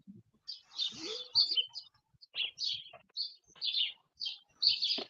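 Small birds tweet in a series of short, bright chirps that come and go in quick bursts, moderately close and fairly soft against a quiet background.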